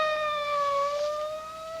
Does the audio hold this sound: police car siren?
yes